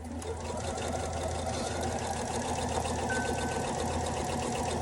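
A sewing machine runs steadily for about five seconds, stitching quilt blocks along a 1/4-inch seam allowance, with a continuous close mechanical whir and no talking.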